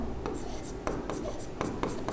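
Chalk or marker scratching across a classroom board during a Hindi-language chemistry lesson, a series of short strokes and taps at moderate level, with faint background voice.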